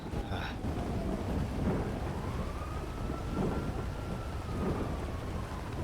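Thunderstorm in GTA V on the NoPixel server: steady heavy rain hiss with low rolling thunder rumbles swelling and fading throughout, loud and continuous, no talking.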